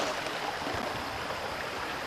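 Steady rushing of river water on the South Fork of the Hoholitna in Alaska, a broad continuous wash of flowing current heard close and unbroken.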